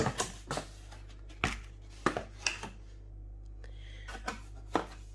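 Someone unboxes an Instant Pot Duo 7-in-1 pressure cooker, producing irregular cardboard knocks, rustles and scrapes that are close and moderately loud over a low steady hum, with no talk.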